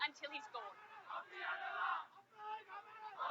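A protest crowd in Sri Lanka shouts and chants together in loud surging bursts, voices overlapping in a dense mass with brief dips between waves.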